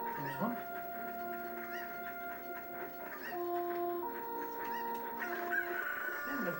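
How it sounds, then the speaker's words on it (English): Cucco chickens in Ocarina of Time, played on a 1990s CRT television, cluck and squawk in a rapid series of short, close game calls, with a voice briefly heard. "Hello, chicken."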